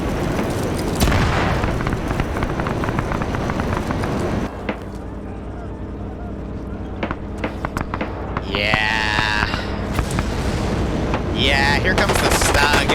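Machine gun fire in a World War II video game tank battle, dense, rapid bursts and booming blasts crackling under steady excited commentary throughout.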